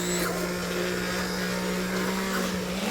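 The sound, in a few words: immersion blender blending soup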